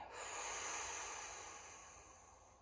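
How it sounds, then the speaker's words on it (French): A slow exhale during a sophrology relaxation exercise, with hands resting on the neck: a single soft, breathy airflow that swells at the start and fades gradually, heard up close with no talking. "on souffle"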